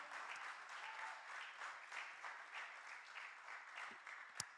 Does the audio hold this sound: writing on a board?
no